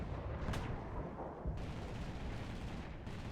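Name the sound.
aircraft anti-shipping cannon firing in War Thunder video game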